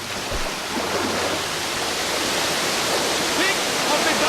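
Steady rushing river water from Metro Last Light Redux, a broad continuous wash of flowing water that stays loud and even throughout, with a brief low thump near the start.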